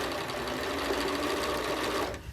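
A sewing machine runs steadily, stitching pieced quilt blocks for a Kaffe heart quilt with no pauses, its motor whir and rapid needle chatter loud and close before stopping abruptly near the end.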